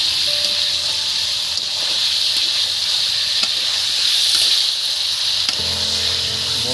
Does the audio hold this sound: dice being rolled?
no